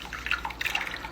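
Creamy soup poured over rice in a dish, a soft, close, wet glugging and dripping that lasts about a second with faint splatters and no voices.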